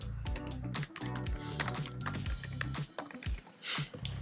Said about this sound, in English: Let me actually type that out again.